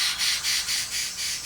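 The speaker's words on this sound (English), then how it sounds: "The great island of New Guinea harbors 42 species of birds of paradise." A harsh, rhythmic squawking call of a bird of paradise in New Guinea, about six raspy pulses repeating steadily, loud and close with no talk over it.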